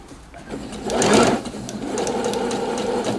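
Close by, a sewing machine stitches bias binding around a curved neckline, its motor whirring into a louder burst of rapid needle ticking, then settling into a steady, even run.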